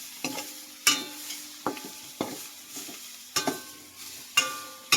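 Tomatoes and long green chili are stirred in a pot of sinigang, with a metal utensil scraping and clanking in repeated sharp strokes roughly every half second over a faint sizzle.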